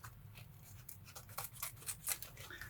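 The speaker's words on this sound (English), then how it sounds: "I'm going to cut a V shape down into it to give it a really nice tail" Scissors snip a V shape into the folded end of a ribbon for a Christmas centrepiece, giving several short crisp cuts close up and fairly quiet, with no talking.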